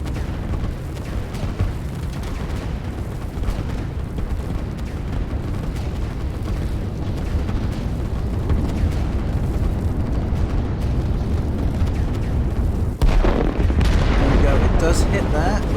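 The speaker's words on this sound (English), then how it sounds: "I imagine that's the rocket being sent off." A rocket launch and impact in the strategy game Line War, a sustained loud rumbling barrage of booms and blasts with a sharp break and renewed surge near the end, voices talking over it.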